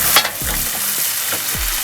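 Tomato sauce goes into a hot pan of cooking onion and garlic, giving a steady close sizzle with a few soft stirring scrapes and no talking.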